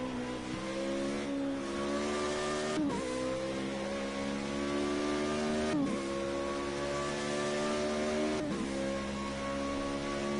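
A Formula Renault race car engine holds a high, steady whine at Monza in Project Cars 2, with brief dips at each gear change roughly every three seconds, constant and close.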